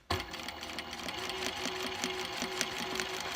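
A sewing machine runs steadily down a crease line in fabric, its rapid mechanical chatter close and continuous, with a faint tone rising partway through.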